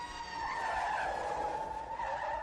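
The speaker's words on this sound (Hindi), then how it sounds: "पुलिस की एक वैन उधर से गश्त लगाती हुई निकली और उसके सामने आकर रुकी।" A police van on patrol screeching to a stop, a sustained high tire squeal lasting about two seconds at close range with no voices, used as a story sound effect.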